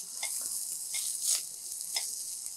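Ridge gourd peel is sautéed in a pan, giving a steady sizzle with a few stirring scrapes and clicks, close and moderately loud, with no speech.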